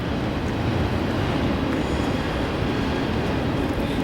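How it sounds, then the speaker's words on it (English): Train rolling past a railroad crossing in Lebanon, Pennsylvania, a steady, loud, continuous rumble and clatter of rail cars filling the whole stretch without pause. "We gotta wait for this train."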